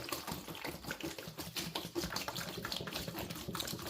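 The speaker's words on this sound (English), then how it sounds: "you add a gallon of water into the brick here" A gallon of water poured onto a compressed brick of growing medium for elephant garlic corms, a steady close splashing and trickling that continues throughout without talk.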